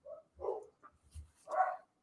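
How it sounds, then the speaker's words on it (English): A puppy in the background gives a handful of separate barks and yips, short whimpery bursts spaced unevenly with quiet gaps between them, fairly soft in a room. "You got the pup in the background."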